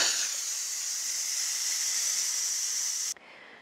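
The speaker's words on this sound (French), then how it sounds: "vous venez pousser la soupape sur vente pour laisser s'échapper la vapeur" Steam jets out hard from the pressure release valve of a Ninja Foodi pressure cooker after cooking veal blanquette, a steady loud hiss that runs unbroken for about three seconds and then cuts off abruptly.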